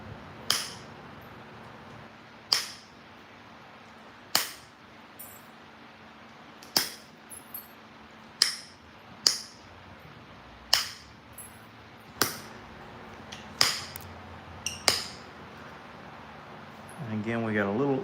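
Flintknapping, flakes struck off a stone with sharp, crisp cracks repeating every second or two at an uneven pace, close and clear over a low background hum.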